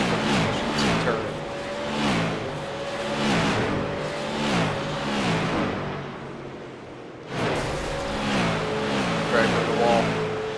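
Race car engines from the iRacing sim, All Pro Sim Series cars on the banked oval at Kern County Speedway, drone steadily with rising and falling revs, with commentary over them and a brief dip before the engine note returns.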